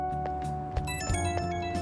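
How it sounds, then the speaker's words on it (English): A phone ringing in Persona 5 Royal, a short electronic ringtone with bright repeating tones over soft game background music, heard close and moderately loud. "Ooh, phone's going off the hook."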